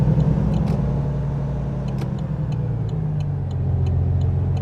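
A car drives along the road, heard from inside as a steady, loud engine and tyre rumble. Faint intermittent ticking sits above it.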